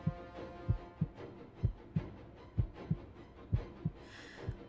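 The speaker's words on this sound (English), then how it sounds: "A silence so thick I could hear my heart beat." Steady thudding heartbeat from the visual novel game Hakuoki: Edo Blossoms, about a dozen low, close pulses in an even rhythm with a faint hum beneath and no voices.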